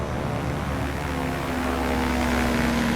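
Simulated aircraft engine drone from Microsoft Flight Simulator 2020 as an AI airliner comes in to land, a steady broad roar with a propeller-like hum holding level throughout, no voices.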